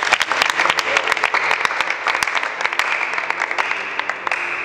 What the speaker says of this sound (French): est-ce qu'on peut acclamer très fort?